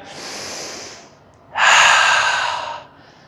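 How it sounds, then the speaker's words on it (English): Two deep breaths at the end of a lower-body workout, close to the mic: a long airy inhale, a short pause, then a louder, rushing exhale, with no talking. "Take a deep breath"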